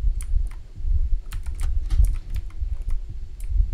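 Scratchy pencil-on-paper strokes from a horror video game, a quick, dense run of short rustling scrapes close up over a low rumbling background, with no voices.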